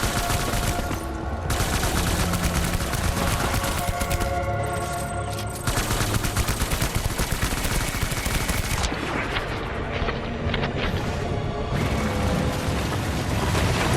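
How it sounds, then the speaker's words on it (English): Dense, sustained assault rifle fire in the video game Death Stranding, loud rapid bursts piling into a continuous barrage with booming impacts, briefly easing before resuming with no talk. "I don't know if this assault rifle is going to get it done"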